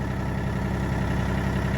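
A tractor engine idling steadily as it warms up, a loud, close, even diesel-like rumble with constant low throb and no talking over it.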